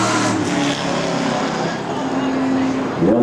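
A super late model race car at Evergreen Speedway gets moving again, its engine a loud, steady roar close by, with a rising pitch near the end and commentary running under it.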